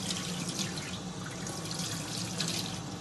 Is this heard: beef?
no